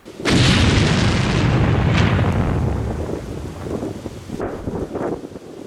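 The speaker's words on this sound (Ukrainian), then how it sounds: "знищено її за допомогою накладного заряду вибухівки" A single deep, booming explosion as an unexploded aerial bomb in a deep trench is destroyed with an explosive charge, its rumble lingering and slowly fading with wind-like noise.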